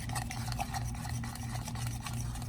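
Chaffle batter of egg and Colby Jack cheese being stirred in a bowl, a steady close scraping and rubbing that runs continuously without pause, with no talking.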